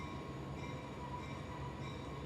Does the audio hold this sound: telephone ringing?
no